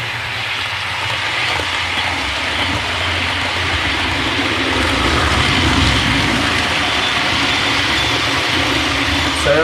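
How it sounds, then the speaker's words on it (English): A Hornby APT model train runs on a curved track under acceleration and its wheels slip. The result is a loud, steady mechanical whir and rumble that holds without a break and builds slightly toward the end. "as I accelerated inside the curve, you could hear the wheels start to slip"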